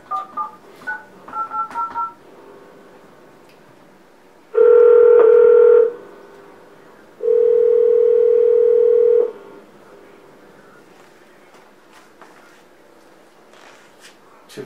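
Telephone line tones after a dropped call: a few short dial beeps, then two sustained steady tones of about one and two seconds, loud and clear with a quiet gap between them and no talk.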